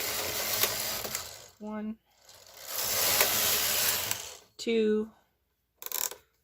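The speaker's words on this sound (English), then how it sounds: "now we're going to knit 2 rows in just stockinette stitch" A knitting machine carriage runs across the bed knitting stockinette rows, making two long rasping, whirring passes with brief pauses between. A voice counts the rows.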